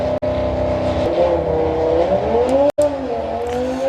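An Audi RS3 race car accelerates hard down a drag strip, its engine note climbing steadily and loud through the run, broken by two brief gear-change cuts.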